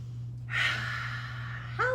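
A child's deep breath in a children's yoga class: a loud, drawn-out exhale lasting over a second against a low steady hum, then a brief voiced sound at the very end.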